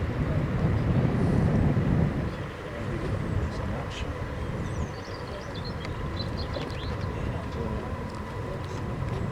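The side paddle-wheel steam ferry La Rance maneuvers in reverse at Meaux, producing a broad, continuous churning rumble that swells early and then settles, with faint voices in the background.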